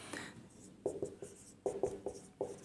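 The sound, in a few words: teacher writing the word on the board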